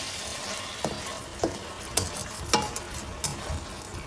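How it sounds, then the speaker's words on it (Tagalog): Beef sizzles steadily in a pan over low heat, with a few sharp scrapes and clacks as it is stirred, close by and without talk. "Ilagay natin sa small fire ang ating pagluluto ng beef"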